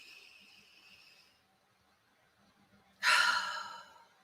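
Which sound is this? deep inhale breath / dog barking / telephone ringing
deep inhale breath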